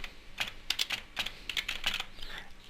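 Someone types a date on a computer keyboard, producing quick, uneven bursts of crisp key clicks in small clusters across a few seconds, close and clear with no talking.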